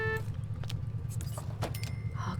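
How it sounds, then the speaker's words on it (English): A car pulls up at home in The Sims 2, with a low steady engine rumble, a few short clicks and clatters of a door or keys on top, and a brief tone near the start. "Lucy's back home. Look at the car."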